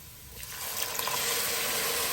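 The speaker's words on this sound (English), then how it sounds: "It's now time that we add that water." Water pours into a big pot of toasted basmati rice, a steady rushing splash that starts softly and swells to a full, continuous flow.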